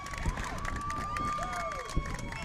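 A youth baseball crowd at an IHSA regional final between St. Viator and Grayslake Central roars steadily after an RBI single, with a broad continuous swell of cheering and an announcer's voice running over the top.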